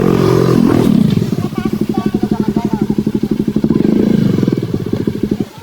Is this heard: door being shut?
no